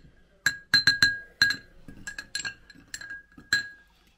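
A Luxardo cherry being muddled in a glass for an Old Fashioned cocktail: close, sharp glassy clinks, about ten taps in quick irregular clusters, with short gaps between them.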